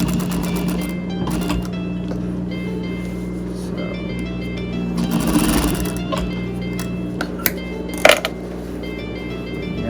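A home sewing machine stitching a fabric face mask, its motor humming steadily with a mechanical whir throughout, punctuated near the end by a few clicks and knocks, close and fairly loud.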